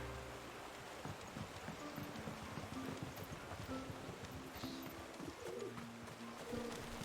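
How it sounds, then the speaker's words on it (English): Pigeons coo softly and repeatedly in Final Fantasy XVI, low rolling calls layered over busy ambient game noise with faint clopping, at a moderate distance. "Hello, pigeons."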